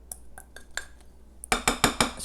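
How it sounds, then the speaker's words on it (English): A spatula scrapes a mixing bowl of chocolate chip muffin batter with a sour cream and milk mixture, making light taps at first, then four louder, sharper scraping clinks against the bowl, close and alone. "scraping the bowl,"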